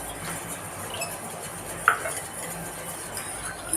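A spoon stirs melting sugar in a pan while making Bombay Karachi halwa, soft continuous scraping and light clinks against the metal, with a sharper knock midway, close and without speech.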